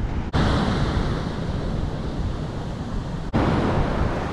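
Ocean waves breaking on rocks along the coast at Stilbaai, South Africa, a loud, steady wash of surf mixed with gusty wind buffeting the microphone.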